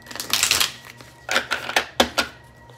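Star Seed oracle cards are shuffled up close, with a long papery riffle followed by several short, crisp flicking bursts; no talking.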